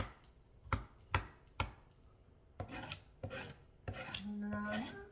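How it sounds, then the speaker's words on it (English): A metal utensil scrapes charbroiled bits off the bottom of a pan, with a few sharp strokes first, then rapid rasping scrapes that build into a steady grinding rub, close and fairly loud. "Scrape all that charbroiled off of there"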